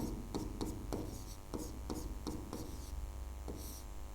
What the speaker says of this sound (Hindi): यहाँ पे मैं लिख दे रहा हूँ कैथोड।